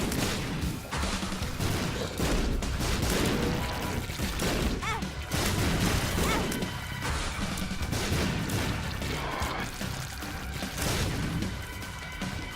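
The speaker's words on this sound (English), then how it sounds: "There's something very satisfying about carpet bombing the entire floor of Boss Rush." Bombs going off across a Boss Rush floor in The Binding of Isaac: Afterbirth+, a dense, loud run of overlapping blasts and crashing bursts lasting several seconds without speech.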